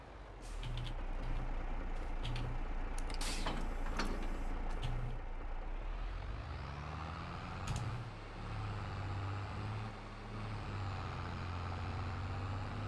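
A truck reverses a trailer in Farming Simulator 22, its engine droning loudly and steadily while a reversing beep repeats at first, then the engine tone shifts and a brief hiss cuts in.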